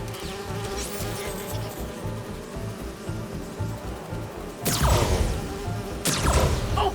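Steady low insect-like buzzing of bee wolves in the Spider-Man 2 game, humming continuously, with two loud whooshing bursts near the end.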